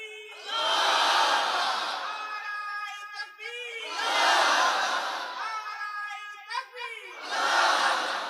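A large crowd at a religious gathering roars the takbir chant in three big waves, loud and reverberant, with a lone voice calling out between each swell.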